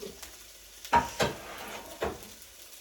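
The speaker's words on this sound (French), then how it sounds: "On va faire cuire l'oignon." Chopped onion fries in a pan for Asian shrimp noodles: a low sizzle under a few sharp stirring scrapes and clatters spaced about a second apart.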